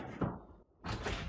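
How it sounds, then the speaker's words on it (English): A door opens in a finishing workshop, a short thump and scrape followed by a louder rushing release, close and brief. "I'm going to open this door."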